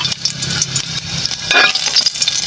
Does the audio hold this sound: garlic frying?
yes